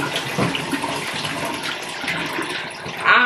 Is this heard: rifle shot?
no